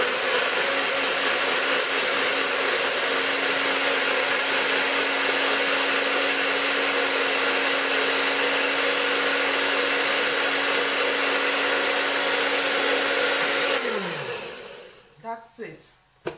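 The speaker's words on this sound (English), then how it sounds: "And then I'm going to blend." A blender whirs loudly and steadily as it purees an orange, mint, ginger and vanilla smoothie shake, a constant close motor drone that winds down sharply near the end, followed by a few clunks.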